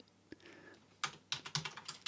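Keystrokes on a computer keyboard while code is typed, a burst of quick, close taps and clicks in an irregular rhythm after a near-silent pause with one isolated tap.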